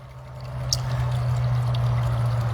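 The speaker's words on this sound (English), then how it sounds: "See, the water just came on out of nowhere." Water comes on in a hot tub as a steady pouring trickle that swells slightly, with a constant low pump hum underneath and a faint click near the start.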